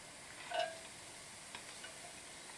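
Garlic frying in a pan while being stirred for a green tomato, potato and pea curry: a faint, steady sizzle runs throughout, with a few soft scrapes and clicks from the spoon, and no one talking.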